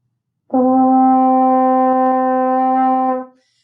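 A French horn holds one steady, clean open G note for about three seconds, starting firmly and fading at the end, with nothing else around it.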